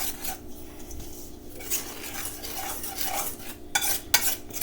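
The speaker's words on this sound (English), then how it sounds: "So I think I'm just going to mix this together really well." Chocolate cake batter for a 1949 sour cream chocolate cake being stirred in a bowl, a steady scraping, rubbing churn of utensil against the bowl with a few sharper clinks toward the end, fairly close and with no talk.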